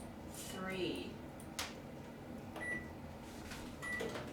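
A microwave oven set to power level 3 runs with a steady low hum, accompanied by brief high beeps and people talking nearby.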